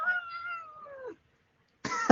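A cat meows twice, close and fairly clear: a long drawn-out call that falls in pitch, then a pause of near silence, then a shorter, sharper meow.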